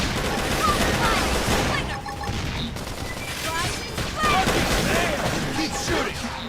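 Sustained gunfire and weapon blasts from a sci-fi combat battle in Xenoblade Chronicles X, loud and dense throughout with crashes and energy effects, chaotic battle noise layered under game dialogue.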